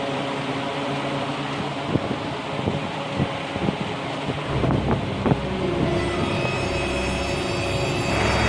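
A household electric fan hums steadily after being switched on indoors, a broadband whooshing drone that swells and brightens partway through, with a few soft knocks and clicks near the start.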